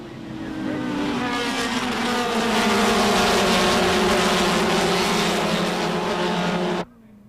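Race cars, including a Triumph Spitfire and a Fiat X19, roar past at the 1990 SCCA National Championship, a loud sustained engine drone that rises in pitch, then cuts off abruptly.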